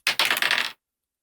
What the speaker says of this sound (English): I'm trying to roll dice on my desk.